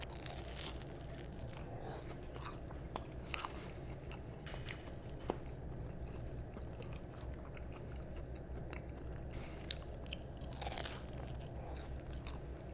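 Crunchy bites and steady chewing of a homemade curry croquette with a bread crust, close and continuous for several seconds, sharp crackling bites standing out over soft mastication, no talking.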